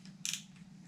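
A single quick snip as fishing shock leader line is cut, a short crisp burst over a steady low hum, close and fairly quiet.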